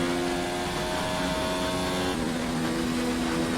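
A Formula 1 car in the F1 2019 racing game holds a loud, steady high-revving engine whine at top speed in eighth gear, with a brief pitch dip near the middle as the tone shifts.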